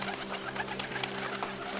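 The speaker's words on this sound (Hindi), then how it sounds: "तभी उधर ऊपर आसमान में कबूतरों का एक बड़ा समूह गुजर रहा था" A flock of pigeons coos steadily overhead in a continuous low, soft murmur, with faint scattered chirps above and no voices.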